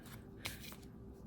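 Tarot cards being drawn from a deck, with soft papery shuffling and a sharper slide or snap near the middle, quiet and close, a few brief card movements over low background hum.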